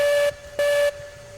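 A steam locomotive whistle in Railroads Online sounds two short, loud, clear blasts separated by a brief gap, with a quiet rumble underneath.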